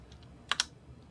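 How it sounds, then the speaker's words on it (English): Keystrokes on a computer keyboard at a college radio station DJ log, two sharp close clicks in quick succession after a few faint taps, with no talking. "I'm going to type the title of my program into the additional text field"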